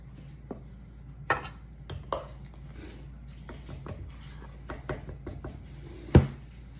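One cup of flour is measured out for a carrot cake in a home kitchen: faint scoops, scrapes and a few soft knocks against a container, with a sharper clack near the end.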